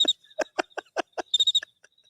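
Cricket chirping indoors in a studio, a sharp series of about a dozen rapid, evenly paced chirps with a quicker cluster near the end, close and clear with no talk over it.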